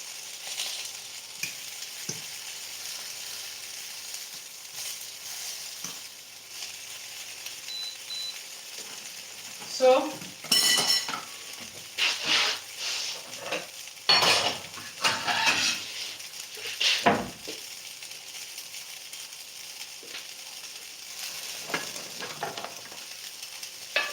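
Eggplant sits in a pan with a soft, low frying sizzle, broken midway by clusters of sharper scraping and clattering as pieces are moved and handled, then settling back to a quiet hiss.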